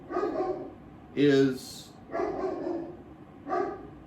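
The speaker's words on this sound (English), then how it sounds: "my dog ruins my video" A pet dog barks several times nearby, sharp loud yaps in short bursts while someone talks over them.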